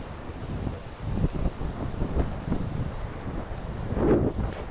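Wind buffets the microphone at the seaside near the Tropicana at sunset, coming as uneven low rumbling gusts over a steady airy hiss, with a stronger blast near the end.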